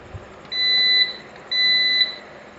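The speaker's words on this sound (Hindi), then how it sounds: "जैसे ही स्विच को प्रेस करते हैं बीप का साउंड आता है" A UPS unit gives two short, sharp electronic beeps as its front panel switch is pressed, each a steady high tone lasting about half a second, loud and clear with no talk.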